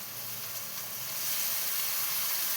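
Coriander leaves hit a pan of curry frying with onions and sizzle in a steady, close hiss that grows louder partway through.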